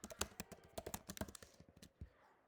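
Quick bursts of keystrokes on a computer keyboard while code is typed, a close, crisp run of irregular clicks and taps with short pauses, alone and fairly quiet.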